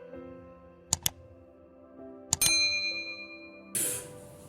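A notification bell chime rings out twice in quick succession, then two more bright dings with a lingering ring, followed by a brief shimmering burst near the end; moderately quiet with no voices.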